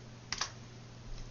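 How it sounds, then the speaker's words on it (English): A couple of quick keystrokes on a computer keyboard, two close clicks followed by a softer pair a moment later, alone and near in a quiet room. "I'm going to hit the tilde key on the keyboard"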